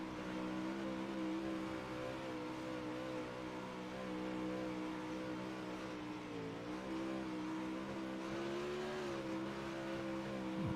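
Dirt track race cars roar steadily around the track, several engines blending into a loud, continuous droning hum whose pitch dips and swells as the cars pass.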